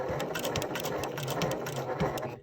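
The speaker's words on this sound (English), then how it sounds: "We're going to stitch across that little squared corner" Sewing machine stitching across a squared corner of denim jeans, a close, steady mechanical whir with rapid needle clatter running continuously before stopping at the end.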